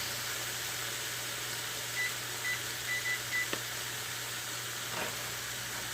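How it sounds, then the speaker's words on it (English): A microwave timer in a home kitchen gives about five short, clear beeps in quick succession, sounding over a steady background hiss and low hum. "Okay, so it went beep, so that's 4 on one side"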